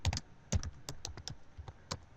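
Someone types on a computer keyboard while entering a list of items in Visual Studio 2013, producing irregular clusters of close, crisp key clicks with occasional heavier strokes, alone without talk.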